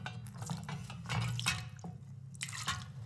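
Water is poured into a wooden butter churn to scald it, with close, soft dripping, splashing and trickling for a few seconds, fairly quiet.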